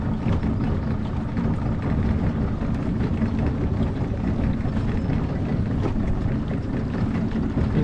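Small boat pushed by an electric motor across water in Gladstone, Queensland, a steady, loud, broadband drone with low rumble and water wash, continuous throughout with no voices.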